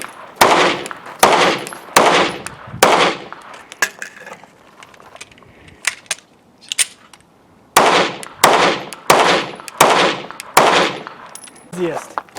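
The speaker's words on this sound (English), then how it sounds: "so walk the slide and fire 5 shots" Five sharp 9mm shots from a Springfield Armory Hellcat micro pistol ring out in a quick string, then a quieter gap with handling noise, followed by another rapid burst of loud, close reports.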